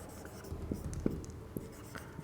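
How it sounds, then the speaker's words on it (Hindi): Someone writes out a definition during an English grammar lesson on noun clauses, producing faint scratchy pen or marker strokes in short taps over a steady room hiss, with no talk. "तो अब हम लोग डेफिनेशन लिखेंगे।"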